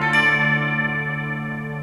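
Guitar barre chord at the 10th fret, strummed down gently once, ringing out as a full sustained chord that slowly decays, close and alone, with an effects-tinged shimmer.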